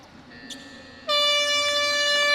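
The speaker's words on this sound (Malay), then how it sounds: "Dan hon panjang dibunyikan." A long, steady air horn blares at full strength to close a football match, a loud sustained tone that cuts in abruptly and holds to the end, with crowd and venue murmur faintly beneath.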